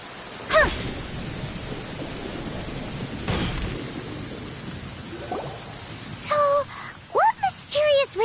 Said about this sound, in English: Thunder and lightning can be quite frightening